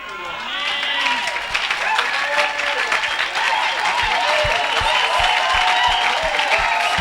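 A church congregation at a miracle-night service applauds, sustained dense clapping that stays loud and steady for several seconds, with voices and scattered shouts mixed in.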